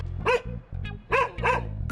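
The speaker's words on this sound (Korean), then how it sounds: "너 도대체 언제까지 짖을 거니?" A wild mother dog guarding her three-week-old puppies barks sharply in three loud, close bursts spaced across two seconds, over a low steady rumble of background noise.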